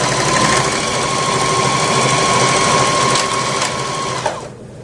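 A Janome HD3000BE sewing machine runs steadily and quietly with an even mechanical whir and hum, then stops near the end.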